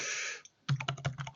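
Computer keyboard keys clatter in a quick, uneven burst of about eight crisp clicks, close and fairly quiet, following a brief soft hiss and a moment of silence.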